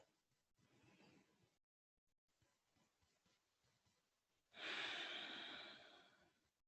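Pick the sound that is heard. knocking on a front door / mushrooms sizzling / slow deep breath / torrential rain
slow deep breath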